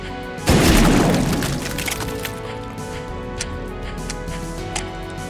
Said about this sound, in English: The shotgun is an all-powerful double barrel. It sounds amazing